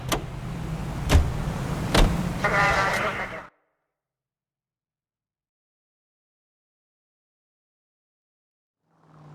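Car being driven in the video game L.A. Noire Remastered, a steady engine and road rumble with a few sharp knocks for about three and a half seconds, then near silence until a faint return at the very end.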